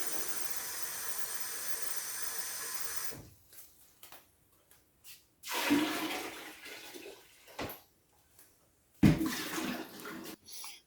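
Water pouring into a beer brewing fermenter, a steady rushing fill for about three seconds, then quieter intermittent splashes and gushes.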